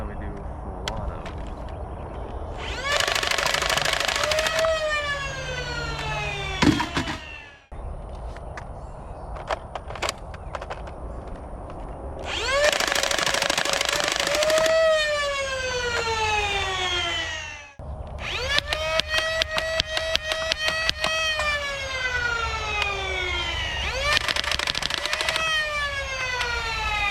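A modified Dart Zone Pro Mk-3 foam dart blaster, the Fenrir, fires in full-auto bursts, each a loud whirring motor spin-up with a falling whine as it winds down, repeated in three separate bursts close to the listener.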